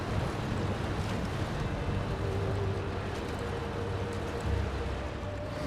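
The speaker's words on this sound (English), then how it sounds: "Engine's still running." A boat engine drones steadily on a river run, its low rumble mixed with rushing water and wind buffeting the microphone.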